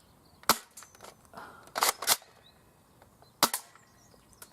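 An MP5 airsoft shotgun fires BBs at a target: several sharp snapping shots, some single and one quick double, each ringing briefly over a quiet room with no talking.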